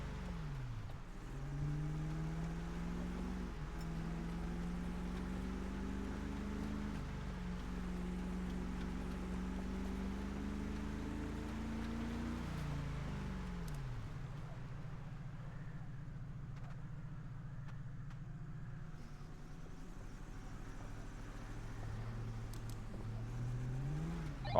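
Steady car engine drone in GTA 5 while towing another vehicle, rising and falling in pitch with shifts in throttle, a drop and lull around midway, then revving again, with no talking.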